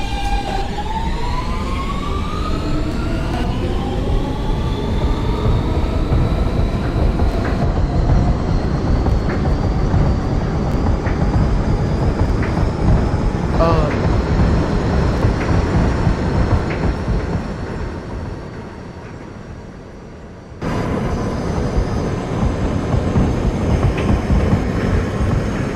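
An R160B Siemens subway train runs in the openBVE train simulator, passing through a station without stopping. A loud, constant rail rumble carries a rising motor whine, dips briefly near the end, then comes back at full strength.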